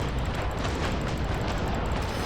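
Ship cannons fire in the Naval Action video game during a battle against heavily armored ships: a dense, continuous rumble of booming shots with no clear gaps between them.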